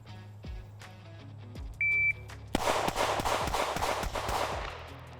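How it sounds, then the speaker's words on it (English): Smith & Wesson M&P Carry Comp compact pistol fired in a rapid string of sharp, loud shots from a low-ready start, about a dozen cracks in quick rhythm after a timer beep, echoing close by. "The pistol shoots very well. It's a very flat shooting pistol."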